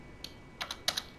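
A few quick keystrokes on a computer keyboard while entering a company name into a spreadsheet: a light single tap, then two short clusters of clicks, close and fairly quiet, with no talking.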